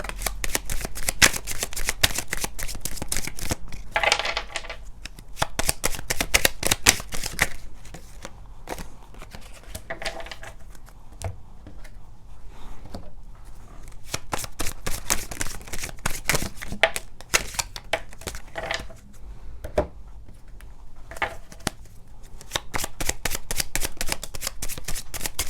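Tarot cards from three different decks being shuffled by hand, a close, steady riffling and slapping of cards that runs on with short pauses, with no voices over it.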